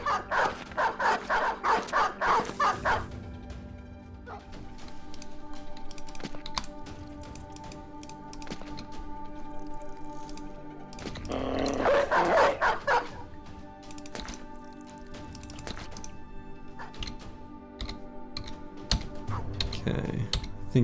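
Dogs bark in a video game, bursts of yips and barks near the start and again midway, over constant game ambience and steady keyboard typing, with occasional voices.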